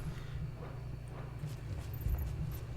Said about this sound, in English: it sounds like footsteps